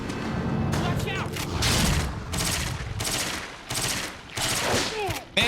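Rapid bursts of bolt gun fire in Resident Evil: The Darkside Chronicles, loud repeated volleys with booming impacts, mixed with game voices and effects.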